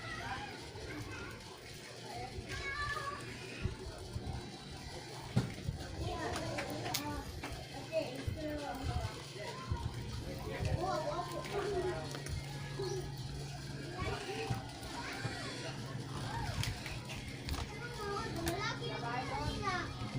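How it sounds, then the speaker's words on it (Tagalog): Neighbours' children play noisily nearby, shouting and chattering for the whole stretch. An adult voice talks over them at times and a pigeon coos faintly. "maingay yung kapitbahay natin, yung mga bata"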